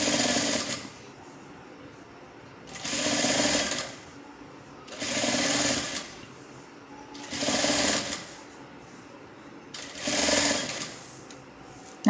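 An electric sewing machine stitching a layered, gathered maxi dress whirs in five bursts of rapid stitching, each about a second long and separated by short pauses, loud and close with a faint steady hum between runs.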